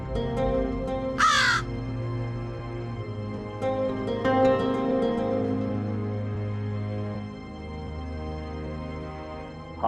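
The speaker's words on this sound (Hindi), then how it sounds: "हमारे दरबार के भीतर पक्षी आ गए, कौवे आ गए" Crows cawing inside a royal court, a loud burst of harsh calls near the start followed by scattered caws over a steady background of droning tones and music.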